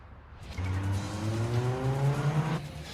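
A pursuing car in Yakuza 0 traffic roars closer, its engine revving upward in a rising harmonic whine with a hint of tire noise, loud and near, sustained for a few seconds without speech.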